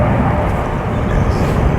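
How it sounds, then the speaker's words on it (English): A loud, steady broadband roar of an airplane passing overhead at a fishing lake, continuous and droning throughout with no clear rise or fall. "Now look at this plane."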